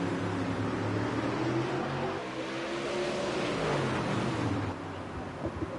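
A pack of super late model dirt race cars in World of Outlaws at Lincoln Speedway roars as a dense, steady engine drone with shifting pitch, loud and continuous.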